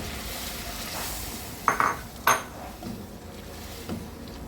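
Squid stir-fried in a pan for Filipino adobong pusit, with a few sharp scrapes and clinks of a utensil against the pan over a low steady sizzle; no voices.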